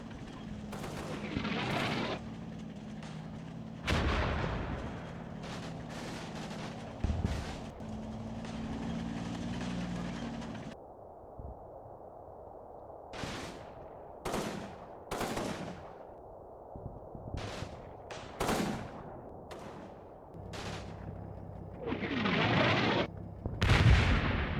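Combat Mission battle sounds: a rumbling stretch of continuous gunfire and artillery, then scattered separate gunshots and booms with quiet gaps between them, building to a heavier burst at the end.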